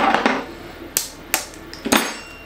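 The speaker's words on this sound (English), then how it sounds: "And then break your 3 eggs into the milk and cream." Three eggs crack one after another against a bowl of milk and cream, sharp separate taps spaced out over a couple of seconds, close and clear.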